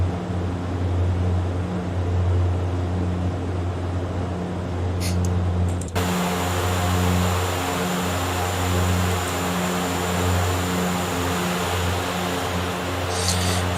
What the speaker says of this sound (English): This aircraft is really flying nicely